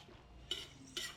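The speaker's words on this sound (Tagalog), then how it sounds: "so haluin mo lang siya para ma-mix siya sa lahat ng mga ingredients" Squid being stirred together with adobo ingredients in a pan for spicy pusit adobo, heard as two quick, close scraping strokes of a utensil against the pan over a quiet background.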